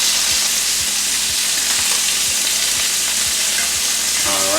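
Chicken pieces fry steadily in a pan with a loud, dense, continuous sizzle, while a low regular ticking pulse runs underneath; no voices.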